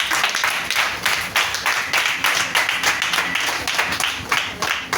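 A church congregation claps fast and steady in acclaim, a dense run of hand claps that lasts throughout, with faint voices underneath.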